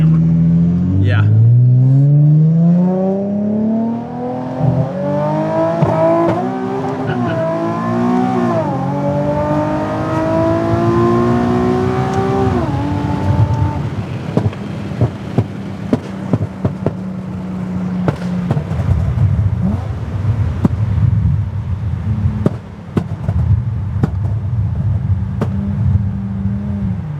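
Engine of a Nissan Z sports car revving and pulling hard through rising gears from inside the cabin, loud and sustained, with a passenger's voice talking over it early on.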